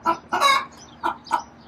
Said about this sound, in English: That's a bad chicken.